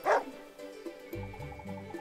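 A dog named Caesar in the turn-based strategy game Wargroove gives one loud, short bark at the start, followed by quieter game music and sound effects.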